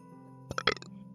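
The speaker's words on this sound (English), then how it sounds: "Oh, that's a burp." A single short burp, close and mid-loud, a gurgling throaty burst lasting about half a second over a faint steady background hum.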